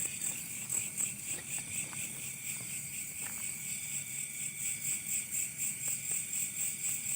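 Night chorus of grasshoppers in rural Indonesia, a steady shrill trill layered in several bands, with a few faint ticks and rustles underneath and no voices.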